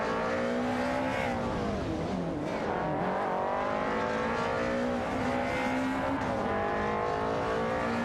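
Race cars in a racing video game roar around a track, engines droning loud and continuous with rising and falling revs as cars pass close by, no talking.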